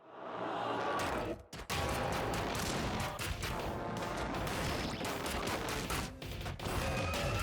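Dense, continuous volley of loud blasts from a double barrel shotgun in the video game ScourgeBringer, with booming shots, crashes and impacts layered almost without pause and one brief gap.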